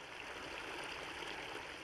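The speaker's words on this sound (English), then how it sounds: "We have water pouring into this river every minute of every day of the year." Steady broadband rush of flowing water from the Manistee River, a continuous stream sound with no pauses, moderately close and alone without voices.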